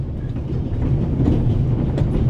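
A moving train in the video game The Raven gives a steady low rumble with faint rhythmic clatter of wheels on track, continuous and fairly close, without voices.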